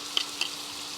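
Garlic and butter sizzling in a frying pan as they are stirred, a soft steady hiss broken by two faint clinks or scrapes, with no voices.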